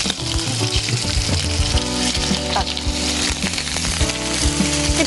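Chopped onion sizzles and fries steadily in a hot pan on a cooking show set, loud and close, with utensil clinks and stirring scrapes throughout.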